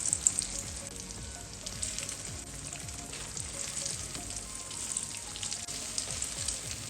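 Eggplant slices fry in oil in a pan, a steady close crackle and sizzle with scattered sharper pops and a faint scrape of stirring, no voices.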